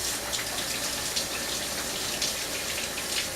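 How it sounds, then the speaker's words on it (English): Hands rinsed under a running kitchen tap, a steady close splashing flow of water with slight spatter variations, no voices. "I'm going to rinse my hands quickly"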